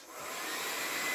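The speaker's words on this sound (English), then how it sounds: "I'm gonna go ahead and use the hair dryer and try to loosen them up" A handheld hair dryer blows hot air onto the stiff joints of a Jurassic World Hammond Collection Dilophosaurus toy figure, giving a steady, close, loud rushing whoosh that swells slightly and then holds.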